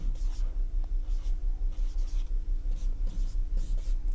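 Hindi letters are written on a board with rapid, rhythmic scratchy strokes that repeat close and clear for the whole stretch, with no voice over them.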